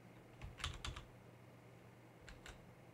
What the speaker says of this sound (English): You see me typing?